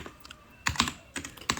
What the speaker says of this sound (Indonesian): Kita ketikkan ping